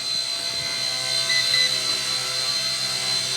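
An RC Era C127AI Sentry RC helicopter hovering close by, a steady high-pitched motor whine with a constant rotor hum, holding even and loud throughout.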